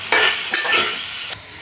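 Food is stirred in a frying pan in a home kitchen: close, distinct scraping strokes, two or three in quick succession, over a bright, continuous sizzle.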